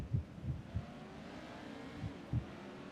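Pro trucks idle and rumble through warm-up laps on the Irwindale figure-8 track, with a few low throbbing engine pulses heard faintly from a distance.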